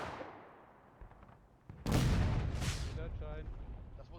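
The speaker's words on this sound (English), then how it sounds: "Drawing some arty fire" Artillery fires in War of Rights, a Civil War battle game on the Hagerstown Turnpike map. A distant rumble fades out, then a loud, close cannon blast booms, a second report follows, and faint voices and shots carry on beneath.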